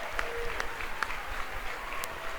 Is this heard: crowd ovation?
yes